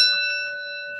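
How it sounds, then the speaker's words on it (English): A golf bell in a stained glass studio rings once, a clear sustained metallic tone that starts loud and slowly fades over a second, with nothing else heard. "It's our golf bell"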